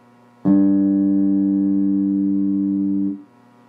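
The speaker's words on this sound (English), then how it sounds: "So the first string on a 5-string bass is a G. So you want to sound that." Open G string plucked on a five-string bass, one steady sustained note ringing for about three seconds before being cut off, loud and close with no talking.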